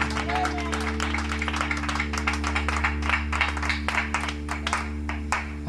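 A church congregation claps and cheers in acclaim of the Lord, a dense, steady run of loud hand claps under a sustained hum, with voices mixed into the crowd noise throughout.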